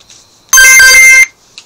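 A phone ringtone or text notification chimes once, loud and close, a bright electronic jingle lasting under a second in an otherwise quiet room.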